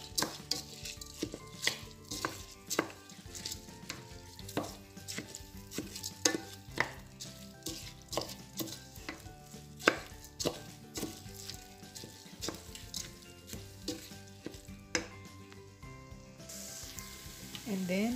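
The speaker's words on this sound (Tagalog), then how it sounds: "So, ilalagay na natin yung bigas. Then, haluin natin para yung kulay niya magpantay." Rice is stirred into sizzling tomato paste in a pan, with repeated spoon or spatula scrapes and clacks against the metal over a constant frying hiss, close and steady throughout.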